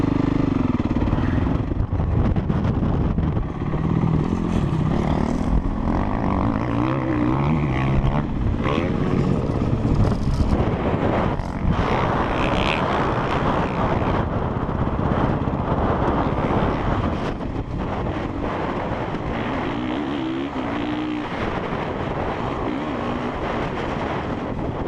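A new dirt bike revs and roars steadily near the microphone for the whole stretch, engine pitch rising and falling as it works over a tabletop jump, with wind buffeting and no talk.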